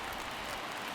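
Steady, even rain hiss at a ballpark, Dodger Stadium in the baseball video game MLB The Show 23, soft and uniform across one second with nothing else standing out.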